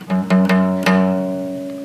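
A single note on a guitar's low E string is plucked four times in quick succession, the last one left ringing and fading, close and clear.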